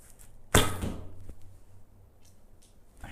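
An arrow from a traditional bow strikes a target with one sharp, loud thwack, followed by a faint second knock and quiet room tone, no talking.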